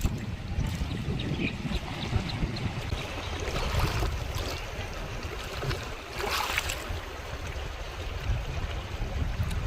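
Steady broadband rush of the Sharda river flowing, with wind noise mixed in, continuous and fairly loud with no voices.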